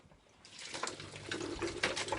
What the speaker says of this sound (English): I can just run that under the tap.